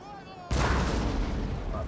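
Artillery firing canister shot during a Napoleon: Total War battle, a single sharp, heavy boom followed by a long rumbling tail of noise.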